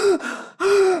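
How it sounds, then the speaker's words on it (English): Self-induced hyperventilation breathing in and out through the mouth: two quick, forceful voiced breaths with a gasping, hooting edge, close and loud, a short pause between them. "we started to do this self-induced hyperventilation breathing, which is in and out through the mouth"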